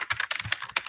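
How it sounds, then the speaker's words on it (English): Quick, uneven clatter of fingers typing on a computer keyboard, close and crisp, a burst of a dozen or so keystrokes with no voices. "I'm typing send a donation for traditional tarot cards."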